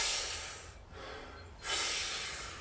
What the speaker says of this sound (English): So my breath goes.